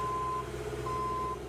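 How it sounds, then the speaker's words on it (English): Forklift reversing beeps ring out twice as long steady tones over a low truck-engine rumble on a busy Oakland street, where forklifts are setting 35 water-filled plastic traffic diverters on East 15th Street. "forklifts placing 35 water-filled plastic traffic diverters on East 15th Street"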